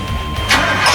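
A 7.4 liter V8 engine cranks and fires on an Optima battery, a loud close starter whirr rising into the engine catching within a second.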